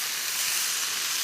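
Pork jowl (hangjeongsal) sizzles on a grill as a brief, steady, loud hiss of searing fat, with no voices.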